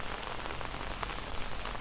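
Steady rain pours on surfaces during a morning walk from Kathu to PSU in Phuket, Thailand, a dense even hiss of drops with no pauses and no voices.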